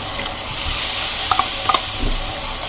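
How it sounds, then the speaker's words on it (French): Broth goes into a hot pan of beef stroganoff, giving a steady loud sizzle and hiss with a few clinks of a utensil against the pan and no talking. "Donc, on met le bouillon."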